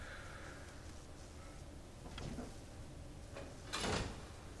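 A lever is pulled and a door opens in the video game Fable 3, heard as a faint clunk followed by a short, brighter mechanical burst near the end, set against quiet background ambience.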